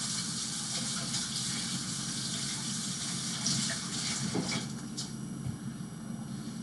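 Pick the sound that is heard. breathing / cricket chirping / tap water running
tap water running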